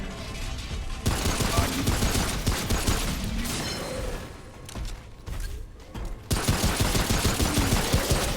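Rapid, dense gunfire in the video game Remnant: From The Ashes rattles in sustained bursts with a brief lull partway through, loud and close.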